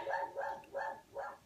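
A dog barks four times in an even, regular rhythm, each bark loud and fairly close, with no talking over it.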